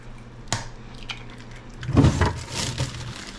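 Two eggs hit a buttered hot pan, giving a short burst of frying sizzle and crackle after a few small kitchen clicks, fairly close and with no talking.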